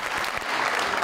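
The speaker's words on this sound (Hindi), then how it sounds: "और बिलावल साहब के लिए बहुत सारी तालियां।" Studio audience applause on a live Pakistani television talk show, a dense, steady burst of many hands clapping at full strength throughout.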